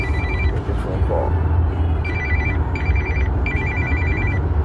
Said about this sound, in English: Take a phone call.